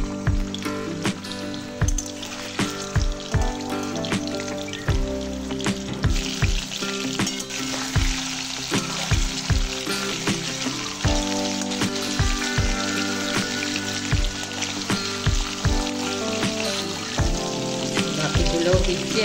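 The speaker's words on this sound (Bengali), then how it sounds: "আমি এই কোপ্তাগুলো তেলে ভেজে নিচ্ছি।" Koftas deep frying in white oil in a kadai on a gas stove, giving a dense, continuous sizzle and crackle with sharp pops and clinks throughout, close and steady.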